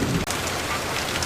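Rain falling in an animated Tamil children's story, a steady, dense hiss of downpour that runs without a break through the whole moment.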